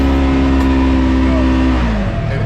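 A 2020 Polaris General 1000 UTV revs loudly up close while accelerating on wet ground, a strong steady engine whine that shifts pitch near the end.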